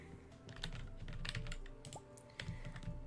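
Soft, rapid clatter of a computer keyboard with mouse clicks during a Stardew Valley session, quiet and close, tapping in irregular bursts with no one speaking.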